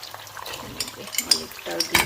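Garlic frying in olive oil for a pasta sauce, a steady crackling sizzle with stirring scrapes and clinks of a pan, close and moderately loud, with faint voices in the background.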